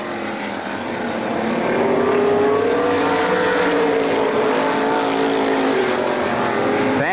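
Race cars roar down the back straightaway at Lorain County Speedway in 2002, with a loud engine whine that swells as they approach, sustains, and shifts in pitch as they pass.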